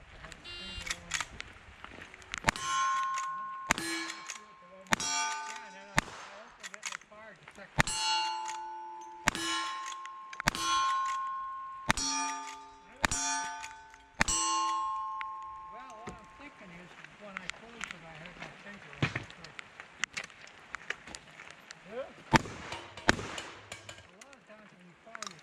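Rapid series of gunshots from rifle, shotgun and revolvers, each followed by a bright ringing clang of steel targets and falling plates, dense bursts for about fifteen seconds then scattered sharper shots and clanks.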